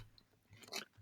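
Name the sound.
person chewing sticky peanut butter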